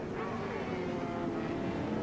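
A Norton rotary-engined racing motorcycle at Cadwell Park howls past in a steady, continuous roar heard at moderate distance, with no pauses.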